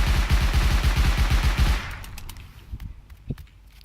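Rapid automatic weapon fire in the video game Rust, a steady fast burst of about twelve shots for nearly two seconds, followed by a few scattered clicks and small handling sounds; no speech.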